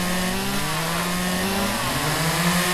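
A chainsaw in the video game Lumberjack's Dynasty runs loud and steady with a buzzing engine drone whose pitch wavers slightly, filling the whole stretch with no talk.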